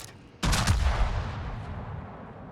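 Warship guns in a naval video game firing at a destroyer, a sudden loud burst of heavy shots in quick succession followed by a long, rumbling boom that slowly fades.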